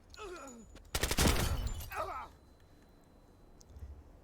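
A stun grenade detonates during a hostage-rescue breach in a video game: a loud sharp burst of crackling noise rings out for about a second and then fades, with brief vocal sounds before and after it.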